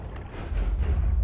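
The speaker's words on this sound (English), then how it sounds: "Divide by 4 makes it so that our explosions, which normally would be pretty useless, are now massive and very deadly." Massive explosions from wand spells in the game Noita make a deep, rumbling boom that swells and holds for about a second. The sound is dense and loud, with heavy low-end weight.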